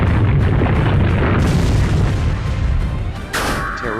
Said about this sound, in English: Terravalo used Earthquake.